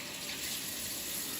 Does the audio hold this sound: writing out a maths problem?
no